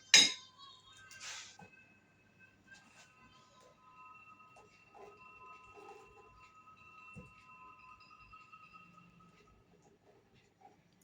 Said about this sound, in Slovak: Miešame, až kým cesto nebude takéto.